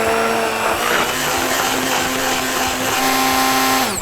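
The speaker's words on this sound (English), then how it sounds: "So literally just blending all this together." A kitchen blender runs steadily, churning cod roe, milk-soaked bread and garlic into a paste. The motor whirs loud and close for about four seconds with a constant pitch, then begins to wind down at the very end.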